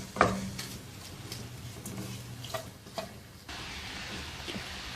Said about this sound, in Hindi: इसको हिलाने के लिए लकड़ी का चम्मच इस्तेमाल करेंगे